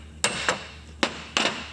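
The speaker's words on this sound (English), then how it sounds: "when you tighten up that nut and you give it a tap with the hammer" A hammer tapping a locomotive connecting rod home after its nut is tightened, four sharp metallic taps at uneven intervals over a low steady hum, close by.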